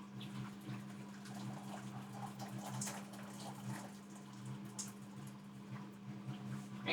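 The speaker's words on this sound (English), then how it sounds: "So I just add some water." Water poured into a hot cooking pot while making jjajangmyeon, with a steady splashing and bubbling wash running continuously at low volume over a constant hum.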